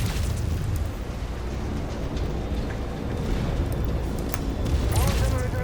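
Fuel supply blowing up in MechWarrior 5: Mercenaries, heard as a sustained low rumbling roar of explosion and battle noise that rises near the end, with mechanical clanks and a voice underneath.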